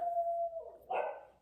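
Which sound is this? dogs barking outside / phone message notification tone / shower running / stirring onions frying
dogs barking outside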